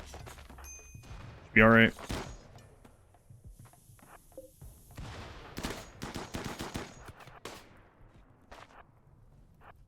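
SMG and machine pistol gunfire in the RimWorld video game, quick bursts of shots with one loud sharp burst early on and fainter firing later, under a voice talking.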